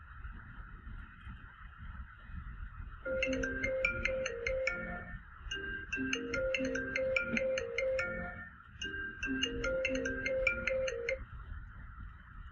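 A telephone ringtone plays before an incoming call, a bright repeating electronic melody in two cycles with a short pause between them, moderately quiet over a faint background hiss.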